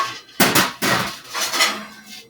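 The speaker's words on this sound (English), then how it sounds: "We're going to stick it in the oven" A flatbread pizza pan is slid into a home oven, giving a few sharp metallic clatters and scrapes, close and fairly loud, with a short rattle afterward and no talking.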